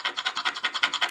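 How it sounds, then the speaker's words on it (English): Sterling silver ring rubbed against a surface, a steady series of short scratchy strokes repeating quickly and evenly, close and fairly quiet with no talking. "Of course, it's sterling, but we'll rub it."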